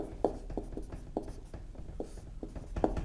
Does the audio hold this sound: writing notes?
yes